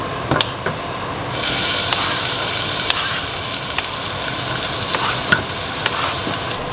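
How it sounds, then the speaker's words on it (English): Onion frying in oil for Ethiopian shiro, a steady close sizzle that swells after the first second and holds, with occasional sharp pops and crackles and stirring clinks, no voices. "I'm going to add the onion to the oil now"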